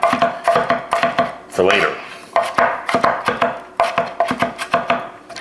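A knife chops ingredients small on a board for a Southern shrimp salad, striking in quick regular bursts with brief pauses, up close, with faint utensil clatter and a brief spoken phrase.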